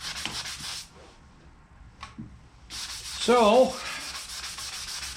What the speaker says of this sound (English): it's rub till we get this thing all smooth